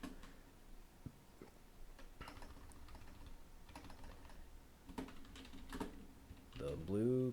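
Typing on a computer keyboard while chatting, a light run of close clicks and taps scattered through the clip under quiet background murmur, ending with a brief voiced sound.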